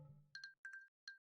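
Bright glassy clinks of an ice cube jangling in a glass in the game Plinkidle, three quick chiming bursts, the first two as paired double clinks and a single one last, crisp and isolated.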